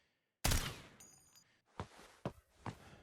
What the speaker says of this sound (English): While I was trying to shoot at him